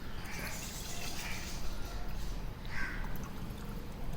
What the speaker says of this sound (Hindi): ये गिलास पे डाल देते हैं